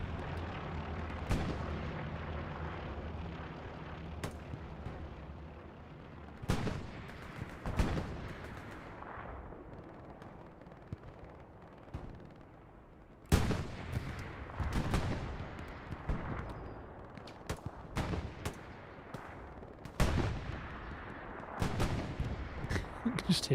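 Tank cannon shots and gunfire roar through a World War II video game battle, with sharp booming blasts and crackling rifle and machine-gun bursts arriving at irregular intervals, some close and loud and others distant, over a constant rumbling din.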